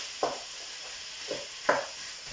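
Garlic going into a pan of frying mince, onion and butter, with a steady sizzle under a few louder scraping stirs spaced apart.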